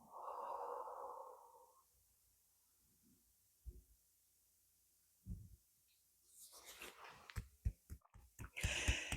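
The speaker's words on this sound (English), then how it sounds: "And exhale." Slow, airy exhale during a guided breathing exercise, a soft breath sound fading out over a couple of seconds, followed by quiet gaps, faint low thumps and rising breathy noise.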